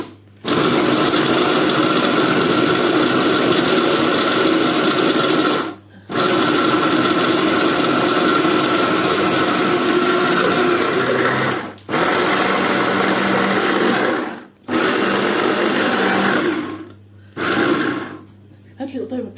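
An electric blender whirs loudly in steady bursts while food is mixed with green herbs such as fresh coriander, stopping briefly several times, with a nearby voice talking between runs.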